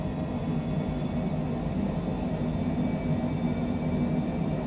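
An airliner climbing in a flight simulator makes a steady, even engine drone and rumble, continuous and fairly loud, with no voices.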